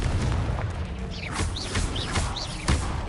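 Fiery spell blasts from the Confringo spell in Hogwarts Legacy burst repeatedly in quick succession, each a sharp whooshing crack. Busy combat noise with whistling magical streaks fills the background throughout.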